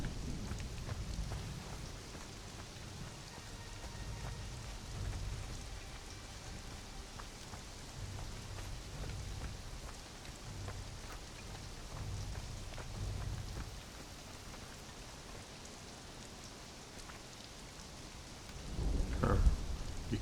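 Steady rain falls with low, rolling thunder through a storm in a video game, a continuous wash of drops with one louder rumble near the end.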